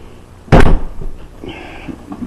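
A walk-in meat cooler door under repair, still without its gasket, swings shut with a single loud, close thump, followed by faint rattling and room noise.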